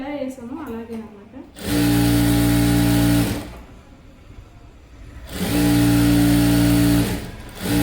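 A sewing machine runs in two loud sustained bursts while stitching a pant waistband piece in reverse, with a steady motor hum and a quieter pause between the runs, and brief talk at the start.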